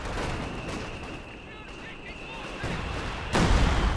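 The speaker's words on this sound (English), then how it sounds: "Close range Katusha barrage" Katyusha rocket barrage in Company of Heroes 2: a rumbling stream of launches and thudding impacts that swells into a heavier burst at the end, under a commentator's speech.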